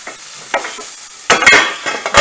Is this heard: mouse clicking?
no